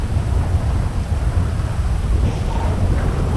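Steady rumbling storm in a video game roleplay, thunder and rain blending into a continuous loud low wash with a faint hiss of rainfall on top, no talking.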